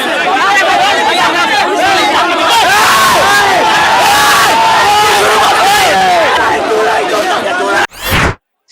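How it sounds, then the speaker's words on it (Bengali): Students at a Dhaka street protest chant a repeated 'bhuya bhuya' slogan in unison, a loud, rhythmic crowd roar of many voices that stays up close and then cuts off abruptly near the end. "ছাত্রদলকে লক্ষ্য করে সরাসরি ভুয়া ভুয়া স্লোগান দিতে শুরু করে"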